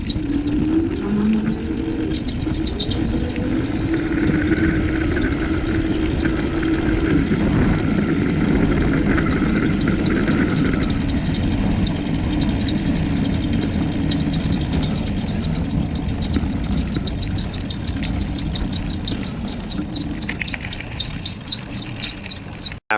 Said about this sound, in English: I'll put the video up of the sound from the back when it squealed